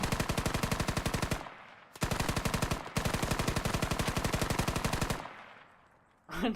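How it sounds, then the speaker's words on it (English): Full-auto machine gun fire in a video game match on the Kokan map: three loud, rapid bursts of evenly spaced shots, split by short gaps, ending with a fading echo. "Arthur with full auto burst with his MG, not letting any survive"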